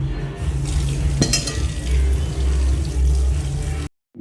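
New potatoes being rinsed in water to wash off sand, with steady splashing and sloshing close by, a brief clink partway through, then the sound cuts off abruptly near the end.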